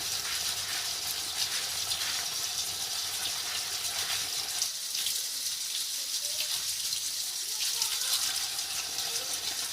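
Tap water runs steadily in a kitchen while an item is rinsed during cleaning with liquid soap and lemon salt, a continuous close gushing with no pause throughout.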